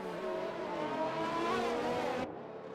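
A safety car from an Xbox racing game drives steadily with a sustained engine drone that stays loud and even, then abruptly drops off near the end.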